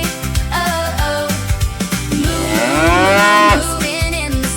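A cartoon-style cow moos inside a bouncy children's farm-animal song, the drawn-out low call rising and falling over steady music with a beat, with no talking.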